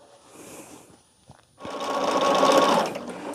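A sewing machine stitches a quarter-inch seam across fabric for a quilt test block, running in one loud continuous burst after a quieter stretch of faint handling noise.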